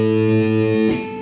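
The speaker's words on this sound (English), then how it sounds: "just play an open A" An open A string on a guitar rings as a single sustained note with rich, steady overtones, close and loud, fading and decaying near the end.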